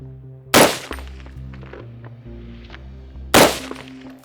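Two loud, sharp rifle shots from a Springfield SOCOM 16 CQB M-14 variant, fired from a standing position outdoors. They come about three seconds apart, each with a brief echoing tail and a quiet hum between them.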